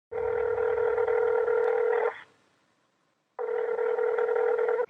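A telephone ring tone sounds steadily for two seconds, pauses, then rings again, loud and clear with no voices.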